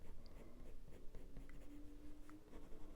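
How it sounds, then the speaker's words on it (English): A white colored pencil moving over paper while drawing a Border Collie puppy makes a faint, steady scratchy rasp. Light strokes repeat across a quiet room. "go over the beginning of the white pencil that I've just put down"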